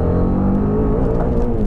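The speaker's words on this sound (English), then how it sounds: "when you start revving it, seriously, I love the grunt that the Apache RR310 has about it" A TVS Apache RR310 motorcycle engine revving close up, a loud gruff grunt that holds steady and rises slightly in pitch over a short burst, with no talking.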